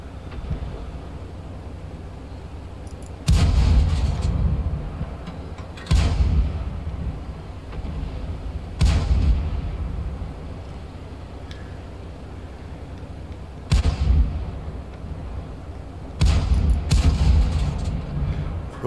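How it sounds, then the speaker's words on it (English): Five heavy tank gun shots in World of Tanks, each a loud booming blast with a rumbling tail, spaced irregularly several seconds apart over a steady engine hum. "Precision of the shots are not great."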